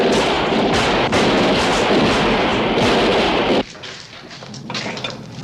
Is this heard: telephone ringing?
no